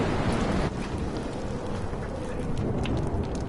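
Heavy, steady rain pours alongside a low rumbling of thunder during a storm in the video game Life is Strange, loud and continuous with no voices.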